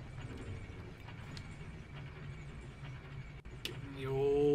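An elevator rides up in Dark Souls 2, giving a steady mechanical rumble with a low grinding hum and faint ratcheting clicks throughout, then a brief clunk and a rising whir near the end.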